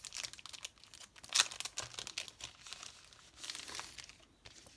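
Plastic packaging of a card-making embellishment set being opened, with close, crisp crinkling and crackling in irregular bursts, one sharp rustle standing out, and no talking.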